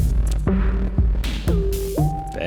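Step sequencer music machines in the video game Stationeers play a looping pattern of bass, drums and synth, with punchy low hits and short tonal synth notes recurring about every half second.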